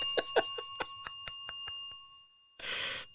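A small bell dings repeatedly in quick, irregular strikes, each ring bright and short with a lingering tone. A louder burst of noise follows near the end.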